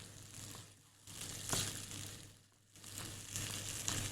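Potatoes frying with yogurt and spices in a pan, a steady sizzle that swells and fades in waves alongside a low hum.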